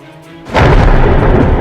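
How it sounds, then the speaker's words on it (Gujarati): A sudden loud thunder crack bursts in after a quiet moment and rolls on as a heavy, close rumble, suggesting a pre-monsoon thunderstorm over Gujarat. "વીજળીના કડાકા ભડાકા સાથે ખાબકશે વરસાદ"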